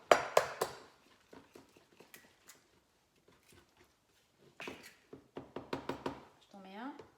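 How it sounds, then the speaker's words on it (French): Eggs added one after another to brookie batter in a home kitchen: a few sharp clicks and knocks of shell against bowl, then light scraping and clinking, with people talking in between. "On va rajouter les œufs. Donc il en faut 2."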